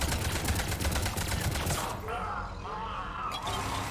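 Turret gunfire in the Mass Effect 3 video game, a dense stream of rapid shots hammering for about two seconds, then breaking into scattered bursts and clatter under background game sound.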